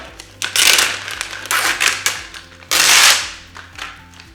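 Packaging on a Menopur medication kit being pulled off, giving loud crinkling, crackling bursts of plastic or paper in several close rough waves, with the longest near the end.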